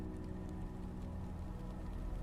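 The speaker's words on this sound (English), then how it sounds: "The gentle sound of rain" Gentle rain falls in a steady, soft wash against a roof, an even hiss with no distinct drops standing out and no voices.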